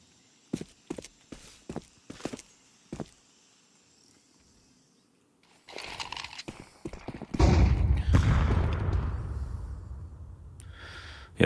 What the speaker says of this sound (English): 2 pairs of footsteps are heard